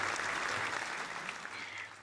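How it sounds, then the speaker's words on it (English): An audience at a Gecko Challenge closing program gives a team a short round of applause, a dense, steady wash of clapping from many hands, fairly close and with no talking. "please give a round of applause for Team C United"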